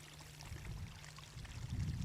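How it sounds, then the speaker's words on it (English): Overflow water from a spring runs out in a low, steady gurgling stream, faint and close, swelling slightly toward the end, with no voices. "this is looking at the overflow coming out of that spring"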